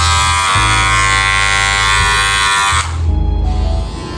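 Loud electric hair clippers buzzing steadily with a strong low hum and bright high whine, the motor pitch shifting briefly near the end, close to the mic with no talking.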